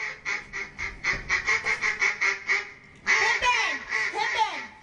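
A duck on stage in a community theatre production of Pippin quacks in a quick, even run of nasal calls, pauses briefly, then breaks into a louder, more ragged burst of quacks, loud and close.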